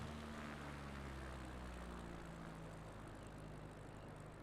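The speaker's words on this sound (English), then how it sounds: "let's come in for a landing, shall we?" A light aircraft drones steadily as it comes in to land on a paved runway, its propeller engine hum loud and constant throughout with no pauses.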